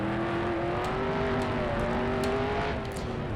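In the dirt racing video game RSR Dirt Sim 2019, race car engines drone loud and continuous at the green flag, their pitch rising gradually as several cars accelerate together.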